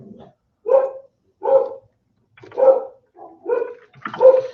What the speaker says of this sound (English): the neighborhood dogs are going nuts, and with the neighborhood dogs going nuts, that's leading to the in-house dogs going nuts